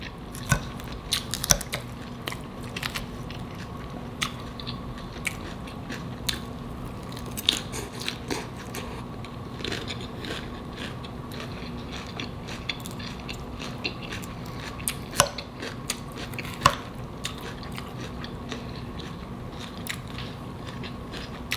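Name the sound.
eating Publix hot honey chicken salad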